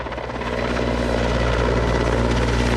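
A firefighting helicopter fitted with a Bambi Bucket hovers close by, its rotor thumping in a loud, steady drone with a deep low hum, continuous and uninterrupted, with no voices.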